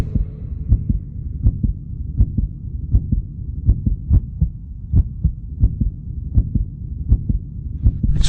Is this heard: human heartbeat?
yes